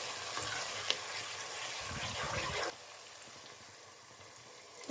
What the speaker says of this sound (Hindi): पानी शामिल करके अच्छी तरह से 2-3 मिनट के लिए हमने इस मसाले को भून लेना है